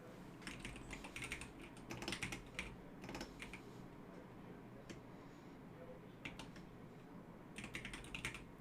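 Rapid clicking keystrokes on a computer keyboard come in uneven bursts and pauses, close and moderately loud over a steady low room hum.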